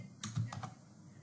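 A few quick keystrokes on a computer keyboard while composing an email, soft and close, three or four light taps in a short burst, then quiet.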